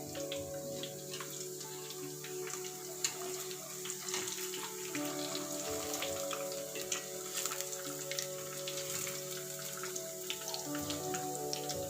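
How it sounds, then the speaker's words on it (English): Soya chunks frying in hot oil in a home kitchen, a steady dense sizzle with crackling pops running throughout, fairly close and even in loudness. "So fry until golden brownish color"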